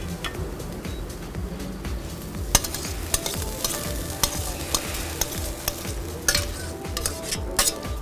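Meat fries in olive oil in a frying pan while a utensil stirs and scrapes it, a constant sizzling hiss broken by sharp metallic clicks against the pan, close up with no talking.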